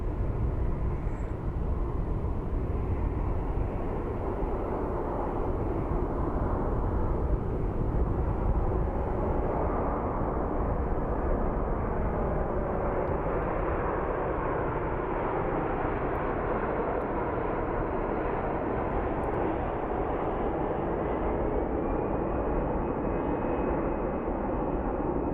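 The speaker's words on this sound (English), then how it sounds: "We'll watch this landing, and that will be it." An airplane landing at Phoenix Sky Harbor International Airport gives a loud, steady roar of broadband engine noise that holds for the whole stretch, with a smooth tone gliding near the end and no talking.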